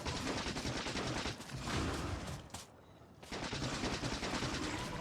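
Rapid automatic gunfire aimed at a biter nest in the game Factorio, a dense continuous rattle of shots that breaks off briefly in the middle and then resumes, fairly faint overall.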